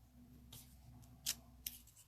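Scissors cut paper during a stamping craft session, a few short crisp snips spaced apart, close and faint over a low steady background hum.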